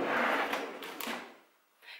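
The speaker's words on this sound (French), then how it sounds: "Tu veux que je te montre le tiroir" A drawer slides open in a home, a brief rolling scrape with a couple of soft knocks, close and moderately loud, then a short quiet pause and a faint final bump.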